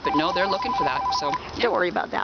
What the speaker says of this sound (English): That's just my phone.